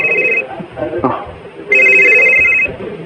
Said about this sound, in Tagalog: nitingog mo cellphone